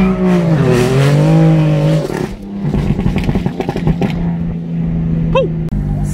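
A convoy of BMW cars on the highway, with engines droning and shifting pitch as they pass close by, a loud rumbling stream of traffic with rising and falling tones and a few sharper knocks.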